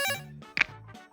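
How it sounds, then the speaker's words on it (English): A phone rings in a Shadowrun: SINless session with a short, electronic, warbling tone pattern in a few quick bursts, fairly soft and with no voices. "a few seconds later, your phone starts ringing from that same number"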